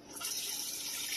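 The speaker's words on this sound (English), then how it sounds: "I'm just filling up with tap water" Tap water pouring into an aquarium being filled for a setup with a soil or dirt bed, a brief continuous close rush and splash of running water.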